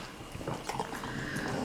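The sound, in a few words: dog whimpering eagerly for treats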